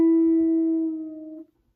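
A single sustained guitar note plucked on the G string, for a song, ringing clearly and alone before fading out after about a second and a half.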